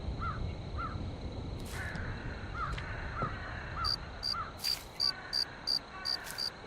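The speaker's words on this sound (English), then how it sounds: "Cricket scared me." A cricket chirps in short pulsed bursts through the quiet, dark forest ambience of a horror game, its rhythmic trill growing louder and more regular near the end, alongside intermittent crow-like caws.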